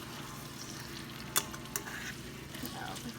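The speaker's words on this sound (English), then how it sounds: "I'm going to put my potatoes in." Potatoes fry in vegetable oil with green pepper and onion, a low steady sizzle under a few clicks and knocks of a utensil against the pan.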